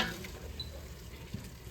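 Onions browning in a pan for a Mostaganem-style couscous, a soft steady sizzle with faint stirring scrapes, close and fairly quiet, with no talking.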